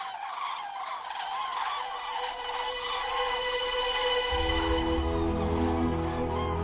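A large flock of migrating birds arrives in early November, a dense, continuous mass of calls and honking that swells steadily and stays loud throughout, with no talk.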